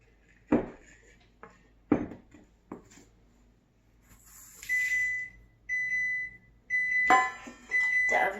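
A kitchen oven beeps to signal it has finished preheating, a few steady electronic tones repeating after some clattering of dishes and utensils while baking cookies.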